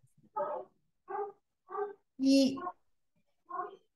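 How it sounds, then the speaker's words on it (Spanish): A small dog barks in the background of a participant's open microphone during an online call, five short separate barks spread over a few seconds, fairly clear against a quiet room. "les puedo pedir si me cierran su micrófono, que por ahí oigo un perrito que ladra por atrás"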